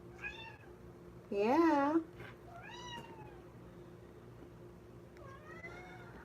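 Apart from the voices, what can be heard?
cat meowing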